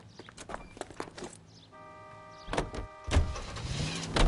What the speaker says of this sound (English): Get in and drive.